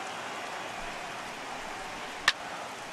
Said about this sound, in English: The rain coming down as it is, we are in for a long delay.